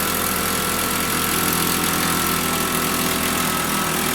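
A benchtop jewellery polishing and buffing machine spins at speed, making a loud, constant motor drone with a rough, vibrating buzz that stays even throughout, close up and without talk.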